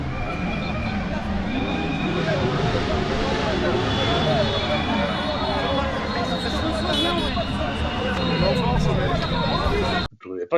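An aircraft taking off fills the scene with a steady, loud engine roar and rushing wind, with voices talking underneath and an abrupt cut at the end.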